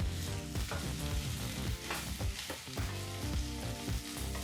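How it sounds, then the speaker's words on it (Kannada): Okra pieces fry in oil over a medium flame, a loud, steady close-up sizzle and crackle broken by the scrape and clatter of stirring, with no voices. "ಈಗ ಮೀಡಿಯಂ ಫ್ಲೇಮ್ನಲ್ಲೇ ಎಣ್ಣೆ ಜೊತೆಗೆ ಬೆಂಡೆಕಾಯಿನ ಸರಿಸುಮಾರು ಏಳೆಂಟು ನಿಮಿಷ ಹುರಿಬೇಕಾಗತ್ತೆ"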